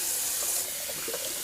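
Tap water runs steadily into a sink while a shaving brush is rinsed under it, a close, continuous splashing hiss with no voices.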